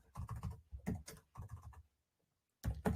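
Rapid typing on a computer keyboard in an office setting, close and clear, in dense bursts of clicks with a short pause before another flurry.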